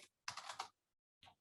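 Someone types on a computer keyboard with a quick, close run of key clicks, a pause, and then a few more taps, all quiet and with no talk.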